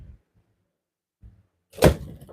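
A door being handled indoors: a couple of soft low knocks and rattles, then a louder, closer clunk with a broad scrape and a brief rattling tail.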